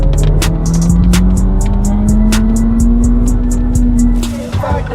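A Lamborghini supercar accelerates hard from a start, its engine note climbing steadily in a loud rising drone while repeated sharp clicking ticks run over the top; the roar cuts back abruptly near the end.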